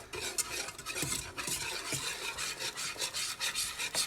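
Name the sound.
stirring a boiling mixture in a pan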